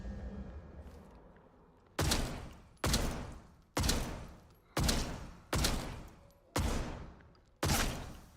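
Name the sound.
gunshots from the video game Atomfall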